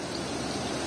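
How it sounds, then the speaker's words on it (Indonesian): Fast-flowing Cileles river current swollen after heavy overnight rain in a remote village, a steady broadband rushing wash of water, close and constant, with no voices. "arusnya juga cukup lumayan deras karena memang intensitas hujan semalam cukup lumayan tinggi"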